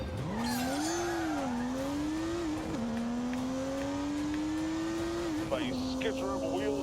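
Car engine revving hard with tires spinning in The Grand Tour racing game, a rising then sustained engine whine with skittering tire noise, loud and close, someone talking over it.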